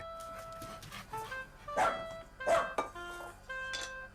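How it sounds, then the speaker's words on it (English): A dog barks and yips several times in short irregular bursts, close and fairly clear, with whimpering tones between barks. "He feeds Freddie, his dog"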